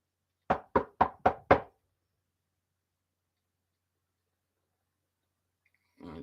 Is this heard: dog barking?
no